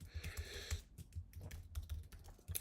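Quick, irregular clicking of keys on a computer keyboard during live coding, faint and close, a rapid run of light taps without talk.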